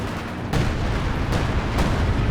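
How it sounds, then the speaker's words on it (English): Soviet 152mm artillery shells landing in a Company of Heroes 2 2v2 match: three sharp, heavy blasts at uneven intervals over a dense, continuous rumble of battle, loud and close, with no voices. "Nobody reacted to this 152mm artillery"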